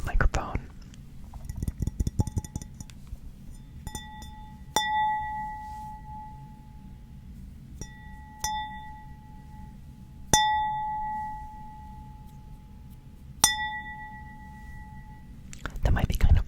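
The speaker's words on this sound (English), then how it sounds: "I have a cold brew coffee in a crystal glass." A crystal glass holding a little cold brew coffee is handled close to the microphone, giving a string of bright, ringing clinks and taps with lingering tones, several sharp strikes spaced a few seconds apart amid soft handling noise.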